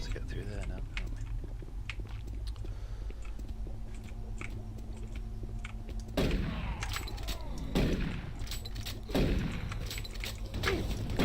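Heavy shotgun blasts boom in Doom 3, three spaced roughly a second and a half apart, each with a decaying tail, over a steady low game hum and some talk.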